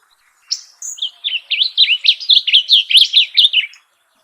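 A male blue grosbeak sings one continuous, close, clear phrase of rapid warbled notes lasting about three seconds, with no other voices around it.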